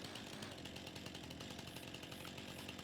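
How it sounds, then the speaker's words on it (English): A chainsaw runs steadily in Farming Simulator 25, cutting branches with a dense, buzzing motor roar that stays loud and close throughout, its pitch slightly pulsing and never pausing. "Maybe if I pull out my chainsaw,"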